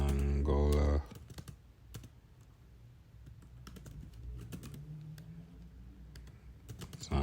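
Rapid, light clicking of a computer keyboard as Python code is typed, steady close keystrokes after a brief burst of speech, with a voice talking over part of it.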